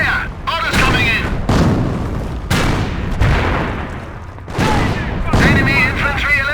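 Battle in Company of Heroes brings repeated booming gunfire and explosions in heavy bursts, with soldiers shouting between the blasts.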